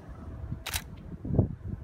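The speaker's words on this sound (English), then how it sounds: "if I just take a little test shot, we can bump it up just a little bit" A single crisp camera shutter click fires up close during a test shot for portrait exposure, set against a quiet room with faint handling noise.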